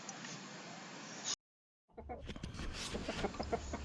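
Chickens cluck and chatter at close range in a backyard chicken run after a brief silent gap, with several overlapping short calls from the flock.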